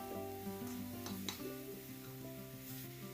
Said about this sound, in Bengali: চিনির সাথে নারকেলটা নেড়ে নিচ্ছি